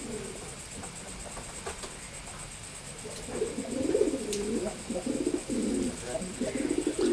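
Racing pigeons coo in a loft, their throaty rolling calls quieter at first and then building into a busy overlapping chorus in the second half, close by and with no talk.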